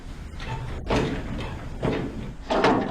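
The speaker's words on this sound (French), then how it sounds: "la porte est verrouillée" A locked door being tried, three dull thuds and rattles spaced about a second apart, close by over steady background noise.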